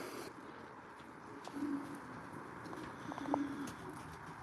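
Racing pigeons coo softly at their loft, two low, brief cooing phrases set apart by a couple of seconds over a steady background hiss, with a few faint chirps nearby.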